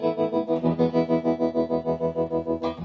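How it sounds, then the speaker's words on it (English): A 1964 Vox AC30 Super Twin guitar amp played through its vibrato channel alone, a sustained guitar tone pulsing in a deep, even tremolo at roughly six beats per second, loud and close with a fresh strike near the end. "If I turn off the other 2 channels, this is what the vibrato channel sounds like alone."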